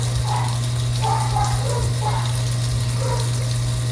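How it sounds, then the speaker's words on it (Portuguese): Water sprays steadily from a hose or watering can onto garden plants, impatiens among them, with a constant hiss and low hum of a pump underneath. "Vou dar uma molhadinha aqui nas sampatins"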